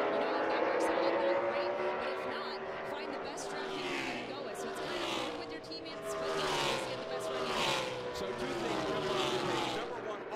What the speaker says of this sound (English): cars are going out on the racetrack at the same time right now